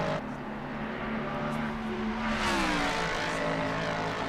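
A race car engine roars and revs at Bathurst in a PC racing game during a top-ten shootout lap. The steady high engine note climbs and shifts pitch as the car is pushed hard, with a louder surge near the end.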